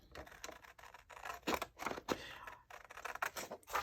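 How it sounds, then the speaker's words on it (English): Scissors snipping around a violet flower picture on paper, a close series of crisp, uneven cuts and crunches repeating in quick bursts. "I'm going to just basically cut it out."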